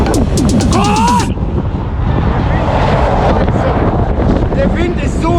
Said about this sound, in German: Der Wind ist so scheiße